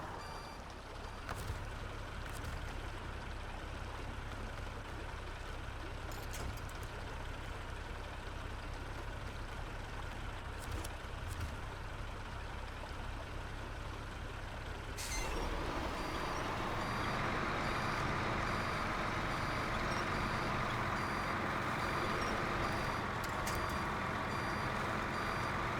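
Multi-axle trailer truck with five or six axles moving, a continuous heavy engine drone with repeated reversing beeps, rising to a louder, rougher rumble partway through.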